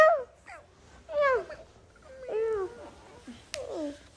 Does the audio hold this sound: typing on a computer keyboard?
no